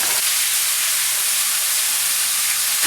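Potatoes frying in a pan with a steady, broad hiss and sizzle running unbroken throughout, close and fairly loud, with no voices.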